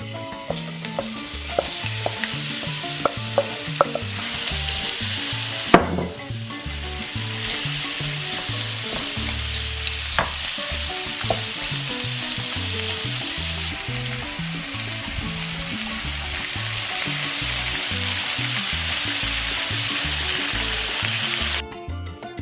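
Shrimp fry in a hot pan with a steady, crackling sizzle, close and continuous, and occasional louder pops and stirring clatter along the way.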